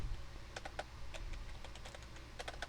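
Quick, uneven bursts of key presses on a computer keyboard as a word is typed in Paint.net, close and fairly quiet over a low steady hum, with no talking.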